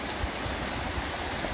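River water flows past a village water intake in Indonesia, a steady broadband rush with no clear breaks, continuous and fairly close.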